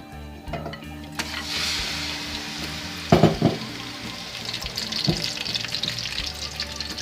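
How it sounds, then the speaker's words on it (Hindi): Mutton hits hot oil in a karahi, giving a continuous close sizzle and crackle, with metallic clanks and bursts of stirring scattered through the frying. "अब इसमें हम अपना सारा मटन ऐड कर देंगे और इसको फ्राई करेंगे।"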